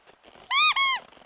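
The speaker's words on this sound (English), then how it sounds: "Alan, who's squeaking in only toy squeaks" A single bright toy squeak, split into two quick high-pitched tones with a tiny gap between them, loud and close over a quiet background.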